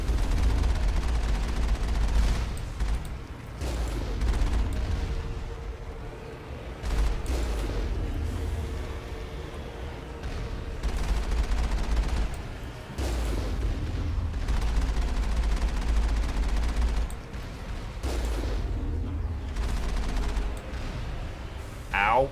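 Repeated bursts of heavy gunfire in Mass Effect, loud booming volleys separated by short pauses over a low rumble, with someone talking between bursts.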